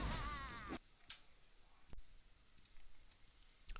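Mouse clicks during a MOBA-style game session, a few sharp, isolated clicks spaced irregularly over quiet background, preceded by a brief burst of louder game sound.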